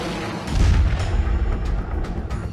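SPICE 2000 bomb explosion striking a bunker, a heavy deep rumbling boom that swells and rolls for a couple of seconds, loud and dense with low-end energy.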